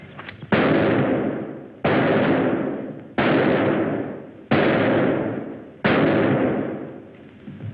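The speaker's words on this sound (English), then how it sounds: "Good shooting, huh, Jimmy? 9 out of 10" Five loud gunshots ring out at target practice, evenly spaced about a second and a half apart, each a sharp crack followed by a long reverberant decay, with no talking between them.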